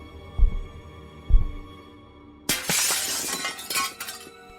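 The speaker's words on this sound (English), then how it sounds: "3 decisive yet subtle whacks in the glass gave way" Two dull whacks against a house window through a bunched-up jacket, then a loud burst of shattering glass with tinkling shards falling and clinking for a couple of seconds, close and alone.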